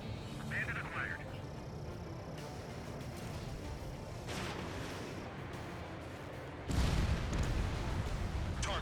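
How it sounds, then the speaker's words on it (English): A missile blast in Ace Combat arrives as a sudden loud, low boom near the end, over steady jet and combat noise, with a voice talking earlier. "That is a really satisfying bomb to just watch blow up"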